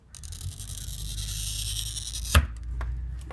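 A glass cutter wheel pressed down and drawn along a straight edge across a glass sheet, giving a steady, close, hissing scratch for about two seconds, ending in a sharp click or snap, then quiet with small taps.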